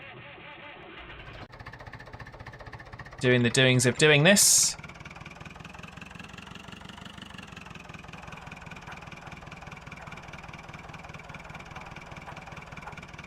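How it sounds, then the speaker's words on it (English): Old tractors running on a farm, a steady low engine drone that idles throughout, with a brief loud high-pitched burst partway through and a voice talking over the engine. "Getting our tractors going."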